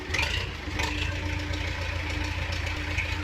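Tractor engine idling in Farming Simulator 19, a steady low rumble with a faint knocking texture that holds at an even level throughout, with no talk over it.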